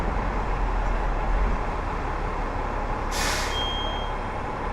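Two city buses stand back to back on a Toronto street with a steady low engine rumble, and an air brake lets out a single loud hiss about two-thirds of the way through.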